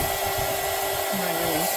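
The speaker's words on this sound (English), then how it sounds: "It's like a blow dryer." A blow-dryer-style heat tool runs with a steady, loud whooshing hum while drying Mod Podge on wooden Easter eggs, continuous and close with a slight pitch wobble.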